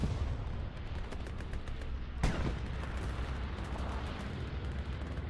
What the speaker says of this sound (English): Some fighting going on down here, some artillery. I hear a bombing run.